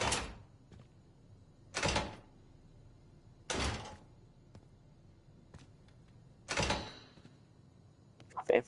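Heavy door and vault sounds in the Black Ops 6 campaign: four separate loud whooshing, sliding thuds spaced a couple of seconds apart, with a few faint clicks between them and someone talking at times.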